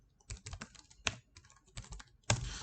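Keys clatter on a computer keyboard as a command is typed to create a server, a close run of quick irregular clicks with short pauses and one louder stroke near the end.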